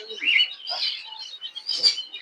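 Sparrows in a market pet shop in Malaysia give bright, high chirps in several quick bursts, close and fairly loud, with short gaps between the calls and no talking.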